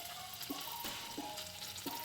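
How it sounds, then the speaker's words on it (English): All-purpose flour being stirred into melted butter in a pan for a broccoli cream sauce, a steady soft sizzle broken by regular spoon strokes about every two-thirds of a second. "And I will be adding 1 spoon of all-purpose flour to the butter."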